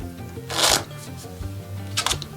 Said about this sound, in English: Just shuffling those cards like an absolute machine